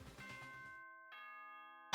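A two-tone school announcement chime from the video game Danganronpa rings out clearly, the electronic bell tones sustaining and decaying, followed by a second struck note near the end.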